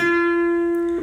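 A single guitar note, picked once on the third string at the tenth fret, rings out clean and sustained for about a second before being damped, close and alone.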